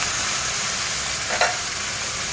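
String beans and eggplant with sliced pork are stirred in a hot pan, a constant loud sizzle broken by a single sharp scrape of the utensil partway through.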